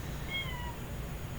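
Brief cat meow, a short rising-and-falling call heard once, fairly faint over a steady low background rumble.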